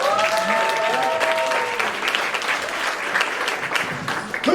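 A comedy club audience applauding as comedian Garrett House is introduced at Mark Ridley's Comedy Castle, a loud, steady wash of clapping with some cheering and a voice briefly over it at the start.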